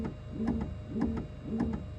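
A faulty Bambu Lab X1 Carbon 3D printer, just switched on, knocks in a steady repeating rhythm of paired taps about twice a second, loud and close, with no voices.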